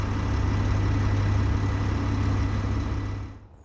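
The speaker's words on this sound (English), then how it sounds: "Turn on the engines" Ship engines in the Space Engineers video game run as a steady, loud, low rumbling hum with a dense mechanical drone, holding even for several seconds before cutting off and fading near the end.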